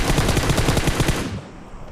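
Rapid automatic gunfire in Battlegrounds Mobile India, a loud close burst of about a dozen evenly spaced shots that cuts off abruptly into quiet.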